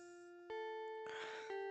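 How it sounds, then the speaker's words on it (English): School bell chime in the video game Doki Doki Vigilante, clear sustained electronic bell tones ringing in steps with a brighter burst partway through, close and alone. "I wake up to the sound of the bell yet again."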